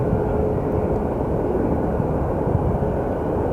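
Airplane at Phoenix Sky Harbor Airport, a steady loud broadband engine roar that holds constant throughout without a break, with no voices.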